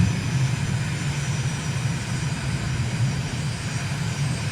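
Aircraft engine droning steadily in Microsoft Flight Simulator during an approach with gear and flaps down, a continuous loud low hum and rumble with no breaks.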